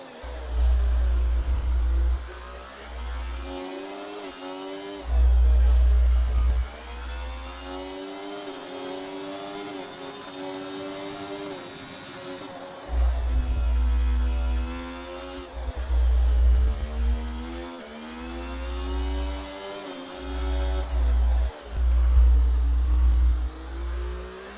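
F1 cars racing at the Singapore Grand Prix in a video game, engines revving loud and close, rising and falling in pitch through repeated accelerations and shifts, with brief low thumps between bursts.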